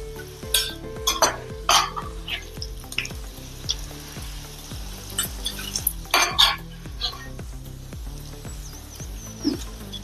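Okra (bhindi) frying in hot oil for a crispy bhindi fry, with steady sizzling under repeated stirring and the clink of a utensil against the pan, close and moderately loud with no talking.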